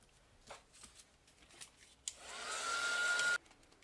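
A handheld dryer blows air over a mixed media craft tag, switching on with a rising whir and running steadily for about a second before cutting off, preceded by light tapping and handling noises.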